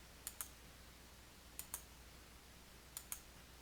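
Crisp mouse clicks on a computer during work in Outlook, coming as three quick pairs of double clicks spaced about a second apart, close and quiet over a faint steady hum.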